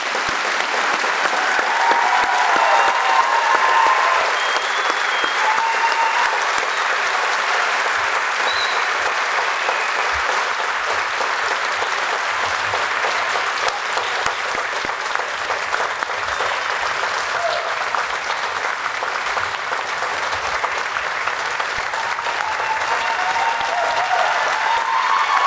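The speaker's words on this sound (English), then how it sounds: "One more round of applause for them." Sustained applause from a crowd at a Lackawanna College police academy graduation ceremony, steady and dense throughout with no break.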